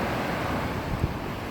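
Ocean waves washing onto a beach, heard as a continuous close rush of surf churning under heavy wind buffeting.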